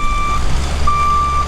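Truck reversing beeper sounding at a waterside grocery delivery, two steady electronic tones repeating in a slow on-off rhythm over a low engine rumble and background noise.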